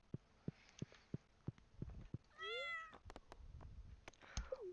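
A cat in the Stardew Valley video game gives a short rising meow, joined by a second later mew, over a steady pattern of soft game footstep thumps and light clicks, fairly quiet overall.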